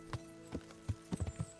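A horse's hooves clip-clop in the medieval game Kingdom Come: Deliverance, six to seven soft, uneven thuds at a trotting pace, faint and close under a steady low game hum.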